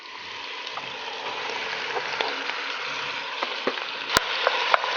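Ground meat for a meat lovers lasagne sizzles and fries in hot infused olive oil, a steady loud crackle with a few sharp spits and pops toward the end, no voices.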